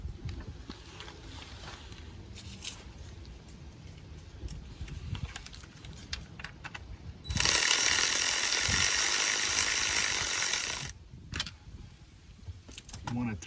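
Ratchet tightening the starter motor bolts on a 2004 Saturn Vue, scattered metallic clicks and clanks with a sustained loud whirring burst of rapid ratcheting midway, close up.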